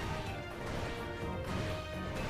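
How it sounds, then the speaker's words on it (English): Oichi's demon hands smashing enemies in Sengoku Basara 4 Sumeragi, a dense, continuous barrage of heavy crashing impacts and thwacks layered over battle noise, loud and unbroken. "That's an example of the smashing enemies with the demon hands."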